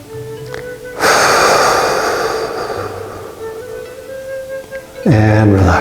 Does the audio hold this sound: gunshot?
no